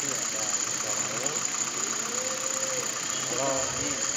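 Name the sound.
Suzuki Escudo engine idling with a Kijang 5K carburettor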